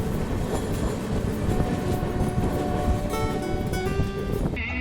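Duronto Express passenger train hauled by a WAG9 electric locomotive runs along the track, a continuous loud rumble with clattering wheels and brief squealing tones near the end, heard from onboard.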